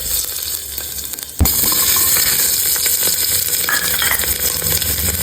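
Fenugreek seeds, peppercorns and curry leaves sizzle steadily in hot oil, with a loud burst as they hit the pan followed by continuous frying hiss and occasional stirring scrapes and clinks.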